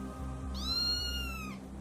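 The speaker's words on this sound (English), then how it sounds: "They look like a type of earth cat, but are very dangerous on this world." An alien cat-like creature in a Doctor Who audio drama lets out one drawn-out, falling meow, close and clear above a low musical hum.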